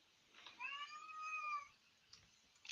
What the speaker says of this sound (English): No, that's my brother's cat.